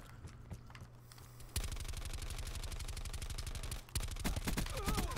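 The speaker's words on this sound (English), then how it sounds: "Well, that was a lot of bullets to just actually like land absolutely nothing." Rapid automatic gunfire from Call of Duty Black Ops 4, a loud sustained burst of evenly spaced shots, a short pause, then more shots with clattering.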